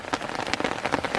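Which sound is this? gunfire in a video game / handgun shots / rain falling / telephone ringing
rain falling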